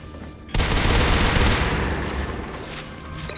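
Shotgun fire in Natural Selection 2: one sharp, loud blast that stays up as a dense burst of gunfire, then fades into a lingering rumble, close by, with no talking.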